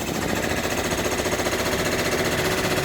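A machine-embroidery session for a Thanksgiving wall hanging, heard as a steady, rapid mechanical chatter of the stitching head running continuously at an even pace, loud and close with no pauses or talk.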